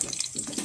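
Tap water runs steadily into a kitchen sink, a close, continuous splashing stream lasting under a second, with no voices.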